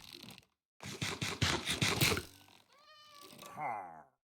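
A cat in the game Minecraft gives a short burst of scratchy, drawn-out meows, close and fairly loud, then a rising higher-pitched meow at the end, with no talking over it.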